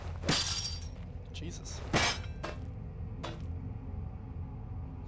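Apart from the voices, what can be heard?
hammer striking a lock in the video game Penumbra Overture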